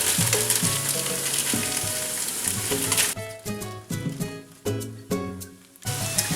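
Onions that have sweated a few minutes sizzle loudly in a hot pan as sofrito goes in, a dense continuous frying hiss that breaks into bursts of crackle and stirring partway through.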